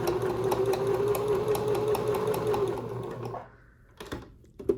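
A sewing machine bastes a tote bag strap with a steady motor hum and rapid needle chatter for a few seconds, then stops, followed by a few light handling clicks.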